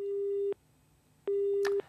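Two long steady beeps of a telephone busy tone after a radio show caller's line from Pune drops, loud and separated by a pause, with a faint click near the end.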